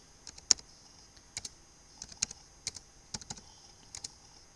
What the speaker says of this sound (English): I'll type few numbers